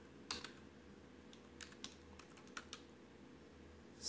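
Quiet, scattered keystrokes on a computer keyboard, a few separate clicks with short pauses between them over a faint room hum, close and soft, with nobody speaking.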